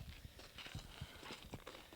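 A Clydesdale mare trots past on a halter, her hooves giving a quick, rhythmic clip-clop that stays faint against a noisy outdoor background.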